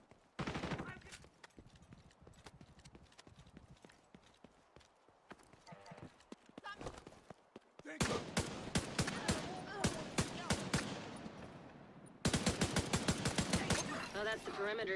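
Rifle fire in The Division 2 video game rattles in rapid bursts, growing louder and denser in the later stretches, mixed with game sound effects and a speaking voice.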